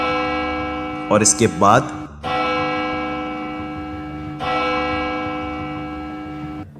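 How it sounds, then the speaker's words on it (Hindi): Bells in a haunted old mansion in Meerut ring with a sustained, resonant, harmonic tone in two long strikes that decay slowly. A voice speaks briefly over the first ring. "आज सिर्फ 2 ही घंटियां बजी"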